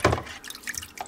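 Water drips off a ThruNite TC12 V2 flashlight in a short run of close, light, irregular drops and trickles.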